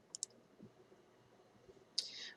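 Two quick, faint mouse clicks close together while clicking an arrow in Photoshop, followed after a pause by a brighter, slightly longer click-like tick, all quiet in an otherwise still room.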